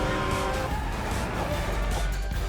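Race car engines roaring with squealing tires from a Hot Wheels themed virtual pinball table, a dense continuous blast of motor noise and skids filling the whole moment, loud and close.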